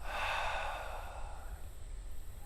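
A single long, breathy exhale demonstrating breathing out, close and soft, fading gradually over a couple of seconds.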